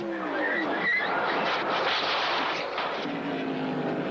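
Stock car from a 1985 NASCAR Busch Grand National race spinning out on track, heard as a loud, continuous engine roar with a sliding, skidding rush throughout, no voices.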